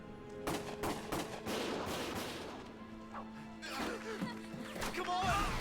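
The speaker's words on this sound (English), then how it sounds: "Gunfire!" Bursts of rapid gunfire crackle from the video game Valkyria Chronicles, loud and chaotic, with shouting voices mixed in amid the shots.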